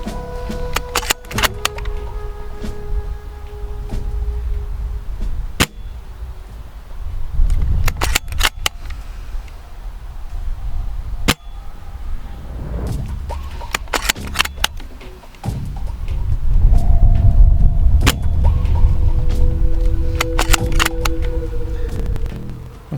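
A TAC41 Silverback airsoft sniper rifle snaps off sharp, isolated shots, each followed by bolt-cycling clicks and rattles, close and loud, ending with a dry-fire shot with no BB.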